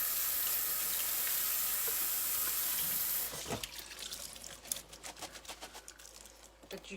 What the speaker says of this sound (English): I'm just going to go drain it off a little bit.